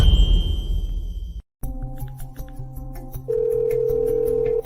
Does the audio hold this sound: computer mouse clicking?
no